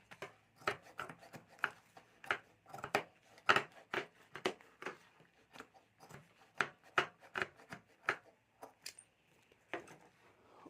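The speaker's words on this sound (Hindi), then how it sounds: "फैब्रिक है उसको मैं कटिंग कर लेता हूँ।" Scissors trim the excess fabric around a homemade jewelry bag, producing a steady series of close, crisp snips and rubbing cuts with brief pauses between them.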